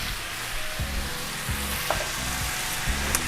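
Lump crab meat cooks in lemon butter in a pan with steady close sizzling and frying, with a few soft stirring knocks and faint clinks over the continuous crackle.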